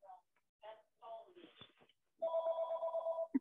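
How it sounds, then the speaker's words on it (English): A telephone rings in a steady sustained electronic trill lasting over a second, following a few brief speech-like sounds and ending abruptly. "the phone's ringing"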